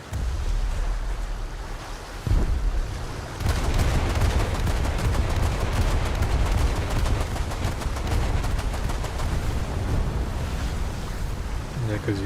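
Anti-aircraft guns on a warship in a naval video game fire in rapid, dense bursts of pops and thuds over a rushing sea-like wash. The fire intensifies after a brief lull early on.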